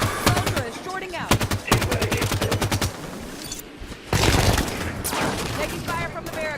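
Rapid automatic gunfire in Halo 5: Guardians rattles in bursts, with dense trains of shots near the start and again after a short lull, mixed with in-game combat noise.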